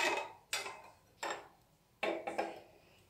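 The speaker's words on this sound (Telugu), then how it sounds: "ఇదంతా బాగా మిక్స్ అయ్యేలా ఒకసారి మీరు తిప్పేసేయండి దీన్ని." A spoon clinks and scrapes against a pot while badam milk mixture is stirred, with four or five close, sharp metallic knocks spaced irregularly and no voices.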